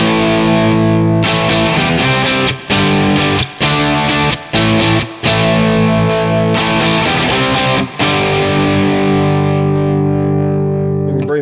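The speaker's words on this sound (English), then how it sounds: "The Tube Screamer is going to make it sound more compressed." Electric guitar driven through a Tube Screamer overdrive pedal plays sustained, compressed chords that ring out loud and full, with brief breaks between strums and a long decaying final chord.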